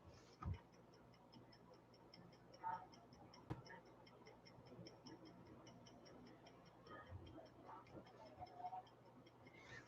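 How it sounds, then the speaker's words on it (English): Clocks tick steadily throughout, faint and even, with a few soft knocks and low background hiss. "So far, it's just clocks ticking."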